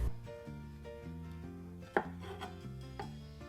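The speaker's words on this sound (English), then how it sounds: "cutting around the pit" A knife cuts around the pit of a mango on a cutting board, giving one brief, crisp stroke partway through. Steady background music plays throughout and mostly covers it.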